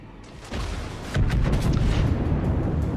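Battleship main-gun salvo in World of Warships, from the German battleship Großer Kurfürst, a heavy booming roar that swells within a second and rolls on loud and low to the end.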